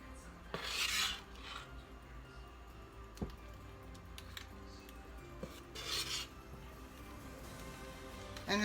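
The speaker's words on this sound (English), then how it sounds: "I'm going to dip it out with an ice cream scooper." An ice cream scooper scraping and scooping moist chocolate loaf cake out of a pan, with soft rasping scrapes, occasional metallic clinks and a couple of brighter scraping bursts, quiet and close with no talk.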